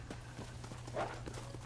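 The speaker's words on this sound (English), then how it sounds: "my horse decided, oh, I'm just going to just straight up run off" In Red Dead Redemption: Undead Nightmare, a horse runs off with a steady rhythm of clip-clopping hoofbeats, moderately close and fairly quiet over a low game ambience, with a slightly louder thud midway.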